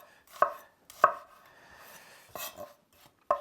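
A knife finely chopping shallots on a board, four sharp, close chops spaced unevenly, with quiet pauses between them and no talk.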